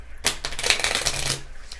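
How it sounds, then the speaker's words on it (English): Tarot cards are shuffled quickly by hand, a dense papery riffle of flicks running for about a second before tapering off. "going to shuffle these real quick"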